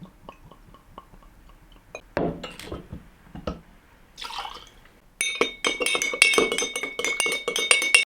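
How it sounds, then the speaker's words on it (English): Bourbon goes into a glass for a cocktail, with a short pour and splash followed by bright glassy clinks and rattles, close and fairly loud, with no talk. "let's add the bourbon"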